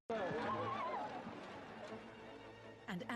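A horse whinnies at a horse eventing competition, a rising and falling neigh near the start, followed by faint hoof and background noise and a brief shout at the end.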